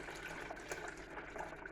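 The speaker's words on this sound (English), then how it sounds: "pour off this juice" Grape juice poured off fresh grapes for jelly making, a faint, steady liquid trickle and splash running without a break.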